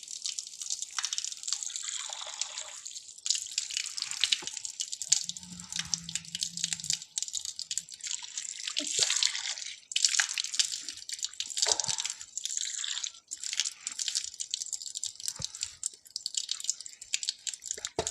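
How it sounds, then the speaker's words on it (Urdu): Water splashing and dripping as the face is washed during wudu ablution, intermittent close splashes and trickles over about eighteen seconds with a few brief pauses, no talk. "اب اس طرح سے ہم چہرہ دھو لیں گے۔"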